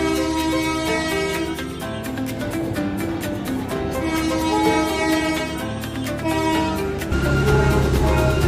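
Darjeeling Himalayan Railway toy train on the New Jalpaiguri–Darjeeling route, with a sustained, tonal horn-like sound and steady rolling noise carrying throughout, loud and continuous with no talking.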